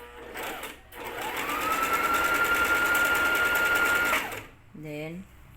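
A Brother JV1400 portable sewing machine stitches for several seconds in a steady, fast whirring run near the microphone. It starts and stops cleanly, and a person speaks before and after.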